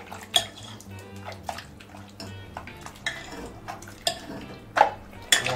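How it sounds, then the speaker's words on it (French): Cooked vegetables being mashed in a pot, with wet squelching pushes and intermittent clanks of the masher against the metal sides, irregular and close, with faint background hum. "On va écraser nos légumes."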